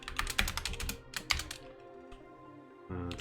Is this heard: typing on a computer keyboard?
yes